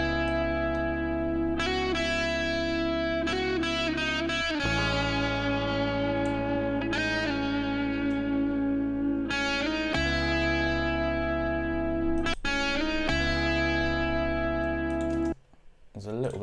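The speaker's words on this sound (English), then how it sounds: "I think it will be a good shout to mess with the Fuzz Wah" Lo-fi chords on a synth run through a Fuzz Wah effect plugin in Logic Pro X, sustained and fairly loud. Short gaps break the run, with a brief dropout near the end.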